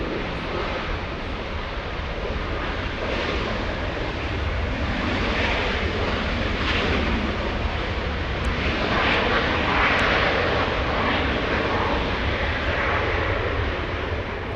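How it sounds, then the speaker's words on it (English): Boeing 757 with Rolls-Royce RB211 engines landing at Los Angeles International Airport, a loud, continuous broadband jet roar that holds steady throughout with no talking. "RB211 engines, Rolls-Royce engines powering that one right there."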